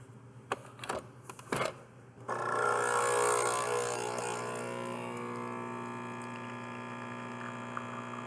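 A Nespresso machine brews coffee from a refillable Capmesso capsule filled with about 5 grams of ground coffee. A few soft clicks come first, then a steady pump hum with a bright whirring hiss that holds at close range to the end.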